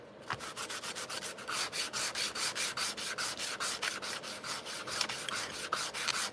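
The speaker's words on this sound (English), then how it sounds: "You have to sand this biodegradable paint." Biodegradable paint being sanded on a paper model stand for a hammerhead corvette, heard as steady, rhythmic back-and-forth rubbing strokes, close and fairly loud, about three or four per second, with no talk.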